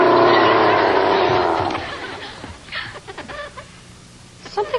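A chicken clucks in a few short, close bursts after a loud stretch of other sound, with quieter pauses between the calls.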